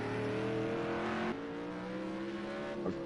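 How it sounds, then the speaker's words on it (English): GT1 race car engines at Hockenheim roar continuously from the live feed, the pitch dropping as a gear shift comes through. "I'm sure you can hear the engines in the live feed as well"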